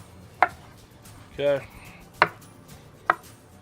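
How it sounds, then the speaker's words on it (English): Knife chops through smoked bologna on a cutting board, cutting it into hefty cubes: three sharp, close knocks spaced about a second apart, with a short spoken word between the first two. "now we're gonna cube them up, pretty healthy size."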